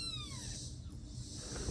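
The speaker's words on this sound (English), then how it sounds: "Cute little kitten." A small kitten lets out a short, faint meow with a falling pitch, close by, over a steady low background hum.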